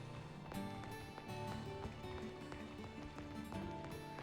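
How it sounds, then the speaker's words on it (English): Footsteps of a Pokémon in a video game thud in a regular walking rhythm, layered over dense game music and clearly audible throughout. "This thing has some pretty noticeable footstep sounds."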